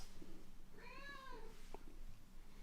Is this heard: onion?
no